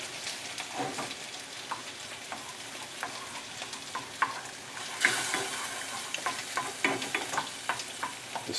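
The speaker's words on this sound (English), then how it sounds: "I'm going to add my mushrooms in this mixture over here. So we'll stir." Mushrooms are stirred into a sugar mixture in a pan, giving a soft continuous sizzle with scraping stir strokes and small clinks throughout, fairly quiet and close, with no voices.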